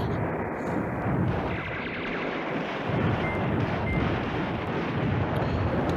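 Artillery fire in the wargame Command Ops 2: a dense, continuous wash of distant booming and rumbling barrages that holds steady and loud throughout, with no talking.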